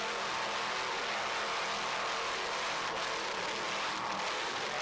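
Three 1,000 horsepower Mercury inboard engines on a Super V racing powerboat: a steady, loud, broad roar that holds evenly throughout with no talk.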